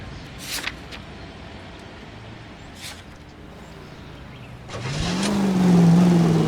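Car engine in the video game L.A. Noire, a low steady rumble with brief broadband bursts early on, then swelling louder near the end as the engine revs up and a rising tone settles into a sustained drone.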